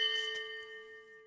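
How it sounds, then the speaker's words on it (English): A single bell strike at a drone racing event at the RAAF Richmond Airshow, one bright ding with a long sustained ringing tone that slowly fades, heard alone. "That's the bell."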